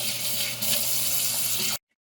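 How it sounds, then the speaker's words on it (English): Kitchen or bathroom sink tap running steadily with a broad, hissing rush of water, close and fairly loud, then cutting off abruptly to silence. "I'm going to turn this sink on and clean it out a little bit."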